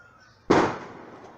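A single loud firework burst goes off sharply after a quiet moment, then its crackling rumble trails away and decays over the next second.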